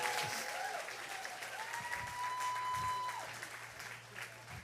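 A church congregation applauds for mothers with steady, dense clapping that fills the room, some cheering mixed in, moderately distant and continuous throughout.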